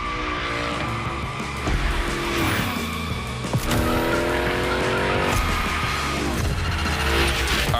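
In The Crew Motorfest, the Hoonicorn slides through a gymkhana course, its tires squealing in long, rising and falling whines over a loud, constant engine roar.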